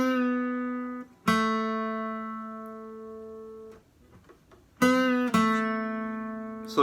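A guitar note played on the 4th fret of the G string and bent upward, repeated twice with sustained ringing between attacks, clear and close in a guitar lesson.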